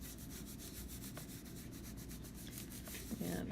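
Rhinestones on transfer tape are rubbed down onto a template with a steady, close scratchy rubbing, rapid repeated strokes forming a continuous textured friction sound with no talk over it.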